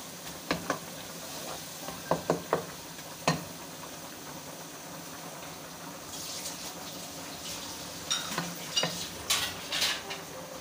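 Onions browning in a pan with garlic just added, for a chicken tarka biryani, with a soft steady sizzle broken by sharp clinks and scrapes of a spoon stirring against the metal pan.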